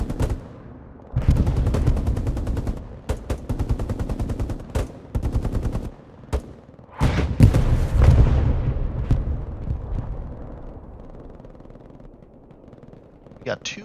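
Machine-gun bursts trade with heavy anti-tank gun shots in a Hell Let Loose match, sharp reports and booming blasts going back and forth amid continuous battle noise, with rapid volleys at the start and scattered heavy hits later.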